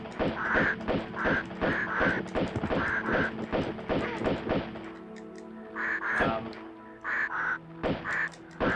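Birds attack the player in the Tomb Raider II video game, giving repeated loud quacking, cawing calls in quick bursts over a steady game soundscape, near and continuous throughout.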